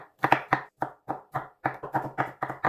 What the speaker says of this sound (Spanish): Ahora les hago unos cortecitos con el cuchillo para dejarlos muy picaditos.